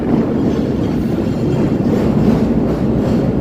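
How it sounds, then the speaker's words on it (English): A Chicago Loop elevated train rounds a bend, its steady, loud rumble and wheel noise filling the air continuously without a break. "Here's the train rounding the bend here."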